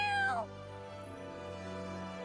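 A cat in the video game Duet Night Abyss gives a single clear, close meow at the start, its pitch sliding downward before giving way to a steady background drone.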